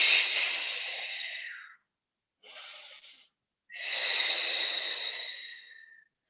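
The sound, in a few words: instructor breathing during Pilates exercise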